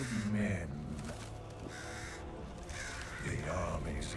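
Ravens or crows caw a few times in a Diablo cinematic intro, harsh calls set against a thick, rumbling orchestral and ambient soundtrack.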